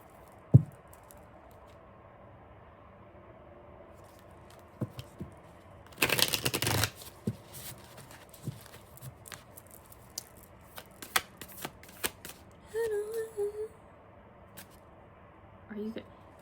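A deck of Buffy tarot cards being shuffled during a love reading, a quiet burst of riffling and card slaps in the middle with scattered taps and soft handling noises around it.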